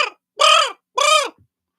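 A raven calls two loud, harsh caws, close by, with a short pause between them and nothing else behind.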